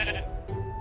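A Minecraft sheep gives a single short bleat, close and clear, standing alone without talk.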